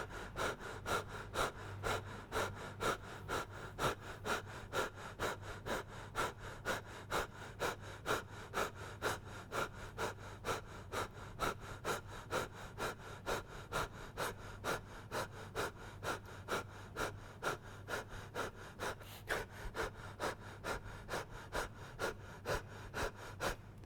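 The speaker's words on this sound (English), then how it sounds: "they start to breathe into the chest through the mouth at a faster rate" Rapid, panicky breathing into the chest through the mouth, steady quick inhales and exhales repeating in a regular rhythm for the whole stretch, close and moderately loud.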